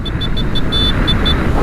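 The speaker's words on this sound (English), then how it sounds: "That's just too small of a horn." Small horn on a Zero electric motorcycle sounds a series of about seven thin, high beeps in an uneven rhythm over low road rumble, close and fairly faint against the background.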